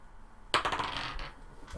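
Dice tumbling in a dice box at a tabletop D&D session: a sudden bright clatter of rattling impacts that settles over about a second, followed by another short rattle.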